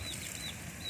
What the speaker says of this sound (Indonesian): Ini burung tiung saya, nama dia si baby.